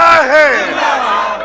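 A crowd at a Bengali Islamic sermon gathering roars a slogan back in unison after a takbir call, loud, sustained massed voices with rising and falling chant contours.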